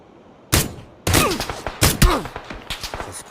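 Gunfire in the video game PUBG, played in a duo match on Xbox One X: sharp bursts and rapid volleys of shots, loud and close, starting after a brief quiet and continuing in clustered rounds.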